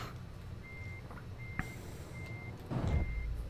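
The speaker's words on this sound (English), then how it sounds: "that's my reverse" A truck in Euro Truck Simulator 2 sounds its reversing alarm in a slow, regular run of beeps over a low engine rumble, with a short thump near the end.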